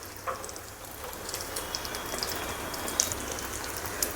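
Bhajiya batter for a fasting-day snack sizzles as it drops into hot oil, a close, steady crackling fry with scattered sharp pops throughout.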